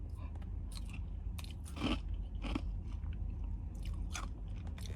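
Ice is crunched between the teeth, giving a run of close, crisp bites and grinding chews over several seconds against a steady low background hum.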